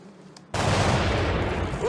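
Gunfire in X-COM Long War erupts after a quiet moment, a sudden loud burst that carries into a dense, sustained roar of shots and noise, close and heavy.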